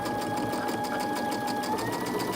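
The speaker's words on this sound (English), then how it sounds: "So now we're sewing the bottom row to the middle row and lining all that up" A sewing machine runs at a steady, fast pace while stitching quilt rows together, giving a close, continuous rhythmic whir and tapping with a faint underlying hum.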